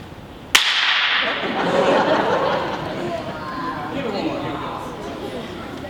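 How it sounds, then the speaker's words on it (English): A single sharp crack from a 9-foot slapstick whip played by a school band at a Christmas concert, striking loudly at the start and then giving way to the lingering murmur and chatter of an audience in a hall. "Let's demonstrate what a 9-foot slapstick sounds like."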